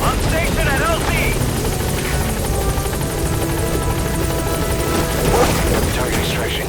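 Helicopter arriving at a landing zone in the Metal Gear Solid V: The Phantom Pain video game, a loud continuous rotor thrum and engine roar up close, with radio voices talking over it.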